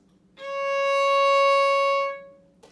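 A single bowed violin C sharp on the A string rings out steadily for under two seconds, clear and close, then stops.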